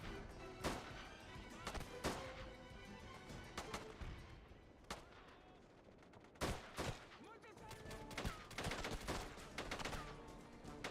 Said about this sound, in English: We're taking heavy fire.